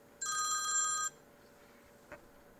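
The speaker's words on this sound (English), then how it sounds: "technology is my cell phone ringing" A cell phone rings once, a bright electronic trill lasting under a second in a quiet room, followed by a small knock.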